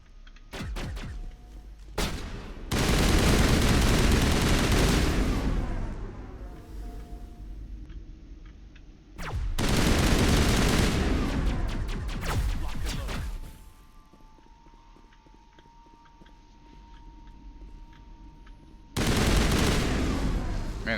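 Rapid bursts of automatic gunfire from a weapon in the video game Mass Effect, three loud sustained volleys separated by quieter gaps with faint electronic hum, close and punchy.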